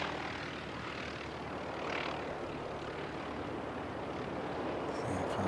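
An aircraft approaching to land at an aero club airfield in Wellington, a steady broadband engine roar heard from a distance, swelling slightly midway, with people talking nearby.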